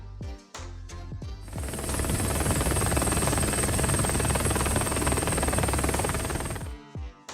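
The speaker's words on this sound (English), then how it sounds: "F-16 pilot executed an incredibly low pass just before landing, keeping the aircraft stable to the meter" An F-16 fighter jet makes a low pass just before landing: a loud, broad roar swells in after a brief quiet, holds steady for several seconds, then drops away abruptly. No voices.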